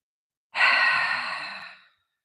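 A single long, breathy exhale during a chair yoga session, close and fairly loud, lasting over a second and tapering off into silence with no talking.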